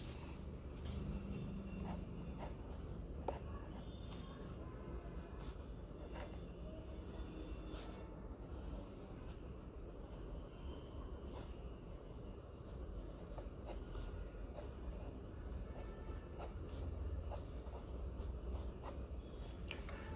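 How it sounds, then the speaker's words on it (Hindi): Pen or chalk scratches out a formula for the area of a triangle, a faint, steady scraping with quick strokes and taps continuing through a quiet room. "सबसे पहले हम इस फॉर्मूले को लिख लेते हैं"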